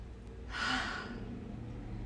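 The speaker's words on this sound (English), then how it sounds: "Big deep breath." A single deep breath, drawn in and let out during a bodyweight mobility flow, swelling softly and fading in the middle of a quiet moment, with no talking.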